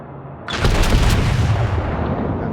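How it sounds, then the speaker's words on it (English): Main guns of a US Colorado battleship fire in World of Warships: a sudden loud blast after a short quiet lead-in, then a heavy rolling boom that slowly decays into a low rumble. "I'm not firing very accurately because I'm kind of panicked."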